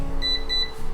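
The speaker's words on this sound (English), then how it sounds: "when the oven beeps to let us know it's ready" A kitchen oven beeps to signal it has preheated to 350 degrees, two short, bright electronic tones in quick succession, clear and close over a low steady hum.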